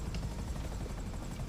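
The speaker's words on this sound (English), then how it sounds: "We're gonna land the chopper" A helicopter in GTA V Online flies steadily, its rotor giving a loud, continuous low chopping drone that stays near and even throughout.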